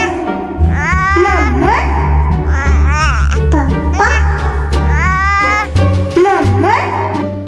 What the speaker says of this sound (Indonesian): Ada suara boneka bayi raksasa.